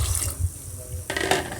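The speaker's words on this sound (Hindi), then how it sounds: "इस पर हम शामिल करेंगे पानी तकरीबन 4 से 5 गिलास" Water pours into a pot of chickpeas, salt already added, heading for a pressure cooker, a splashy liquid rush that swells and turns brighter near the end.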